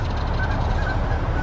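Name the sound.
birds calling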